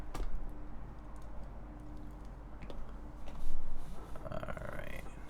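Typing on a KBDfans Tofu65 2.0 mechanical keyboard, with scattered key clicks sitting low under a steady room hum and a brief louder swell midway.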